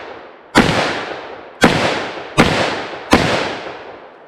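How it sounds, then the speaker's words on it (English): Four sharp gunshots from a .357 Magnum revolver fired at targets, each a loud crack with a fading tail, at uneven intervals of roughly a second. "first up we have the 357 Magnum"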